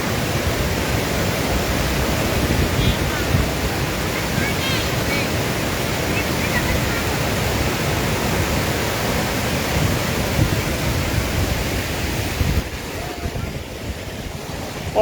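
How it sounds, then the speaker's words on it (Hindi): The swollen Swan river rushes in flood after heavy rain upstream, a loud, steady roar of churning water close by that carries on unbroken with only a slight drop near the end. "और आप देखिए कैसे रौद्र रूप में है स्वां नदी।"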